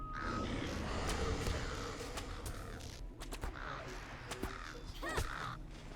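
Craven birds sent out by a wretched falconer in a video game cawing repeatedly like crows over a busy game soundscape, with people talking faintly in the background.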